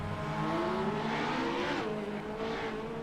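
An SR8 race car out on a racing track, its engine revving loud and close in a continuous rising and falling drone that shifts pitch as it powers along.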